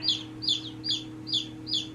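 California White hens in a chicken coop, clucking in a regular series of about five short calls over a steady low hum, close and clear.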